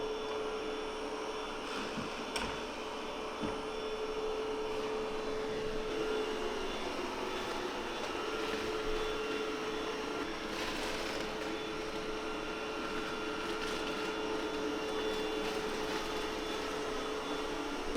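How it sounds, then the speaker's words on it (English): Roborock Qrevo Curv robot vacuum cleaning a floor, a steady near whirring drone with a constant tonal hum, running evenly and alone for the whole stretch. "So it is doing a very good job cleaning it, vacuuming everything through."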